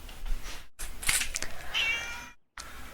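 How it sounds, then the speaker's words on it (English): A cat meows in the video game Genshin Impact, several short, high mews broken by brief silent gaps, close and clear. "Ay, qué bonito gatito."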